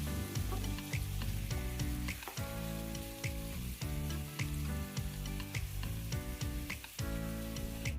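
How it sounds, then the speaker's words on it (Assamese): Chicken pieces fry in a pan over a gas flame turned up high, giving a dense, continuous sizzle with scattered sharper crackles throughout and no talking. "এইখিনি টাইমত মই গেছৰ ফ্লেমটো অকণমান হাই কৰি পিনি মই ভাজিছোঁ।"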